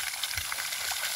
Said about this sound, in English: See the pure water flowing out.